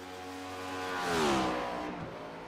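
A NASCAR race car engine revs hard as it passes close by at Daytona, the pitch sweeping with a Doppler shift, swelling to a loud peak near the middle and then fading, with no talking.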